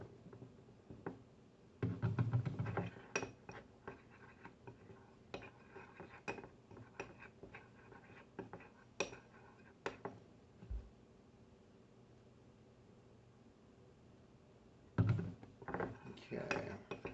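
Ashes being mixed with oil in a container, heard as quiet, close scraping and clinking of a utensil in bursts, with a long near-silent pause before the stirring resumes.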